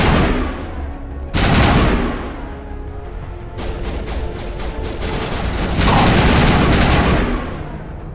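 Rifle gunfire in the video game Mass Effect comes as loud, dense bursts of rapid shots. The bursts repeat across the whole stretch with brief lulls, and booming impacts come between them.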